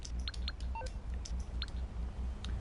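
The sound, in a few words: phone menu dialing in GTA Online video game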